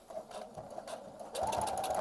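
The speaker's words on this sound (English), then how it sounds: "So I stitch forward twice, go back once, and then keep going." A sewing machine runs in short bursts over thick Japanese selvedge denim, a whirring stitch that pauses and restarts, then steadies into a louder continuous run near the end.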